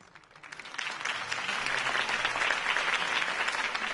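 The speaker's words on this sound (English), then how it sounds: "could have heard that applause" Crowd applause in a cartoon follows a mayoral campaign speech, building quickly from a few claps into sustained, dense clapping that holds steady and loud without any speech over it.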